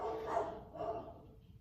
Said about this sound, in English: I don't know who that is outside, but he just needs to go ahead and do what he need to do so these dogs can stop barking